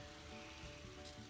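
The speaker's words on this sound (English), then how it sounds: "it says to let it saute for another 5 to 10 minutes" Chili and lime filling sautéing in a pan, a faint steady sizzle and crackle running evenly throughout with no talking.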